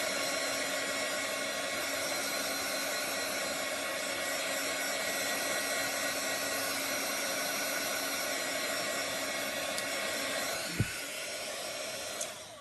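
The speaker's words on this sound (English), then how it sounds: "We're going to blow dry this." A hair dryer blows steadily on a chalk paste pattern, a constant loud whooshing hum held throughout, with a brief bump near the end and no talking.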